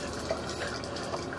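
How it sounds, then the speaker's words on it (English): Water runs in a shower to flush an ABS waste line: a steady, even hiss of flowing water with no pauses, close by and moderately loud. "We are running a little bit of water in the shower just to help us get the line clear"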